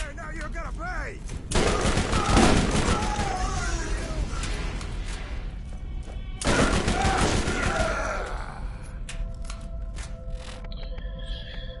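Rifle fire in the video game Borderlands, two loud bursts of shots around two and six seconds in, with game effects and low rumble between and after them.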